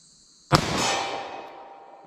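A single sharp gunshot from a snub nose .38 Special revolver firing a Winchester Silvertip round, fired single action, cracks suddenly after a quiet moment and then rings off in a long fading echo.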